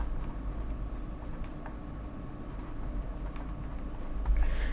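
Pen scratching across paper while jotting a note at a Dungeons and Dragons table, a steady close scribble of soft strokes with a slightly louder rustle near the end.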